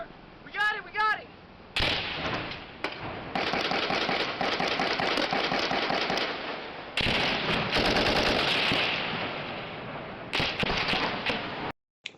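Gunfire during a battle at an outpost, with sustained, loud bursts of automatic fire and heavy shots sounding close and almost continuous, briefly broken by shouted voices early on.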